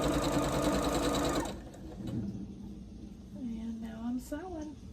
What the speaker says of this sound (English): And now I'm sewing.